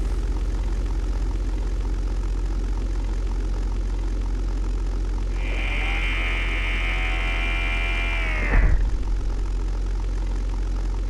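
A P-51B Mustang propeller engine drones steadily throughout in the flight game European Air War, with a rising whine joining for a few seconds before cutting off with a thump.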